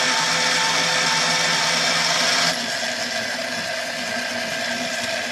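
A 300 BLK brass cartridge case spun against a deburring tool on a case prep machine, giving a steady close motor whir with bright scraping hiss that drops to a quieter, lower hum partway through.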